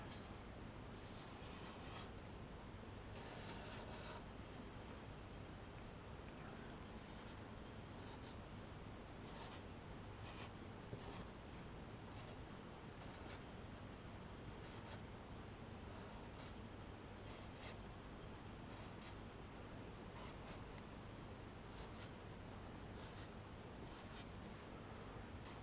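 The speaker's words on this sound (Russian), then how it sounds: "Здесь я его рисую условно." A pencil sketches a weeping willow crown on paper, with steady scratchy strokes and bursts of quick hatching that repeat over a long stretch. It is close and quiet, with a soft hiss underneath and no talking.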